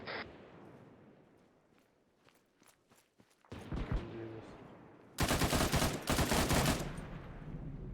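Gunfire in the video game Arma 3 starts as scattered sharp cracks, then builds into dense, loud bursts of sustained automatic fire; faint voices are heard between the shots.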